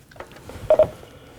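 Short run of telephone dialing tones on an incoming call, a few soft beeps followed by two louder, close tones in quick succession, heard alone without speech.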